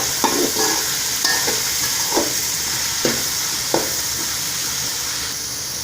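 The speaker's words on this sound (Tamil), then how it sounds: "காய் நல்லா வணங்கிட்டுருக்கு." Mixed vegetables for vegetable noodles sautéing in a hot pan, with a loud steady sizzle beneath several sharp scrapes and taps of a spatula as they are stirred, close up and without speech.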